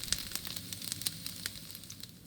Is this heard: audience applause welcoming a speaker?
no